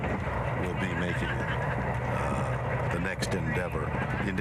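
Horses whinny at the 8th annual Hollywood Charity Horse Show, with neighing rising over a dense, busy crowd murmur and continuous talk throughout.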